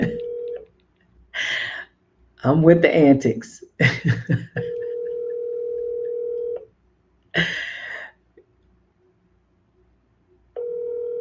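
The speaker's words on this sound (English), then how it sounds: "I'm gonna call him. I'm gonna put it on speakerphone so y'all can hear." A phone call on speakerphone: a steady ringback tone sounds in long, evenly spaced pulses separated by silence, with a voice speaking clearly between the rings.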